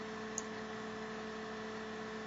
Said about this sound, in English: You might be able to hear the humming of the motor in the background.